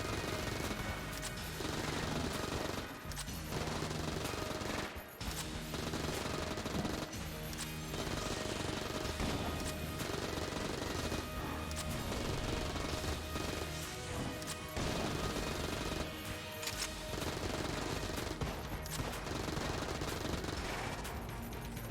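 In the video game Enter the Gungeon, dense gunfire rattles almost continuously, with rapid shots, crashes and impacts packed together at a loud, even level and only brief dips.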